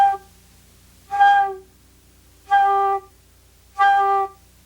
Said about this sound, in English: Now what we're going to do is make the note G again, which is 3 fingers on the flute.